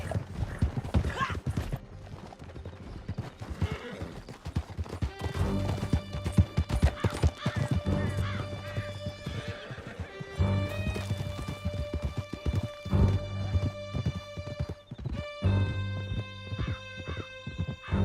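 Horses gallop in a Red Dead Redemption 2 chase through a canyon, with steady clip-clop hoofbeats and occasional whinnies over a dense game soundtrack and rumbling effects.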